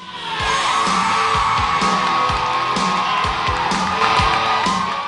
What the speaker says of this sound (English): and they all yelled.